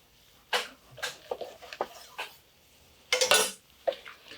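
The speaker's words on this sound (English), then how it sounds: "I'll just give it a slice right down the center here" A knife cutting through a smoked brisket on a board, a string of short scraping, tapping strokes and one longer rasping pass near the end, close and fairly crisp with quiet gaps.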